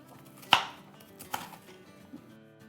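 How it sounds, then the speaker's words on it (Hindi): Knife chopping ingredients roughly for mutton handi: one sharp, loud chop followed by a second softer one, with quiet kitchen background between and after. "और अब हम इसको रफली चॉप कर लेते हैं"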